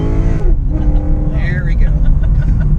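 A 645-horsepower Pontiac G8 with a loud rumbling engine roars hard and close under acceleration, a steady heavy drone with people talking over it.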